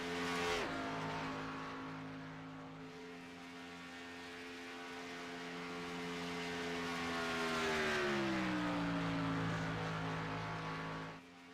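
A race car runs alone on the track at Daytona starting a fast lap, its steady engine drone holding a strong harmonic tone that dips and sweeps lower partway through, loud and continuous with no talk.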